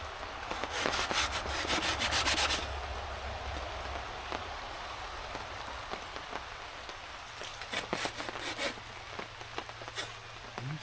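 A hand saw works through the final wood fibers of a board during a kitchen renovation, giving steady raspy rubbing strokes close by that ease off partway through, followed by quieter scattered scraping and ticks.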